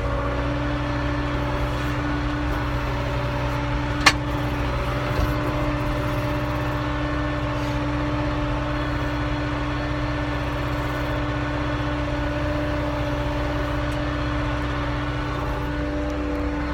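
Steady droning engine of a two-wheel drive 6400 tractor pulling a plough through a field, loud and constant with a single sharp click partway through and no talk.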